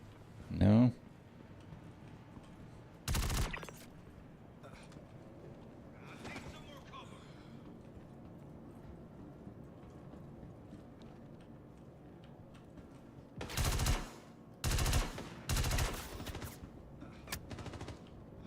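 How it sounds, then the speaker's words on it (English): Sharp gunshots ring out in the space game Star Citizen, with an isolated shot early, another a few seconds later, then a tight cluster of three or four near the end, heard over low background ambience. "Who is shooting me?"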